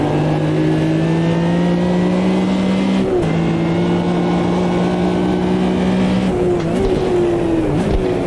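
A race car leaves the pits in a racing video game, its engine droning loud and steady at a held pitch, with a couple of brief gear-change dips and a rising surge near the end.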